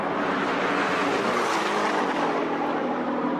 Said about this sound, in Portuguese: Mostrando os carros que eles estavam usando pra capturar os sons